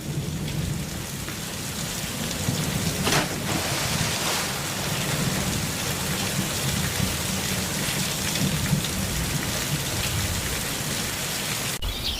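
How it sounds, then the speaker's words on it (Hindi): Heavy rain pours steadily through a stormy night in a village setting, a dense continuous hiss with a low rumble of thunder rolling underneath and a sharper crack near the middle, no voices present. "अचानक तूफान और तेज हो गया और अब बारिश भी शुरू हो गई थी।"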